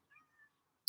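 A cat named Nefertiti gives a soft, faint meow with a short second murmur after it, then a brief sharp burst of noise at the end, with no talking.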